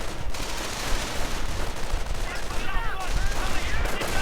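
Bursts of MG42 machine gun fire in a World War II strategy game, rattling continuously under dense battle noise and other gunfire, loud and sustained throughout.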